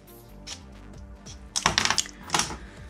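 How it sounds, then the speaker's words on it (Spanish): Strong scissors cut through stiff material in a run of quick, crisp snips and crunches near the microphone, starting sparse and growing denser partway through. "para cortar este material necesitaréis unas tijeras un poquito potentes"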